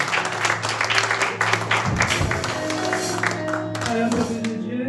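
Congregation at a Sunday church service applauding and cheering together, a dense, steady wash of clapping with voices and held musical tones underneath throughout.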